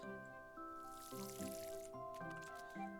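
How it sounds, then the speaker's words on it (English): Crops being watered in the dinosaur farming game Paleo Pines, a soft splashing, dripping pour over steady background music, no talk. "First off, I have to water the crops."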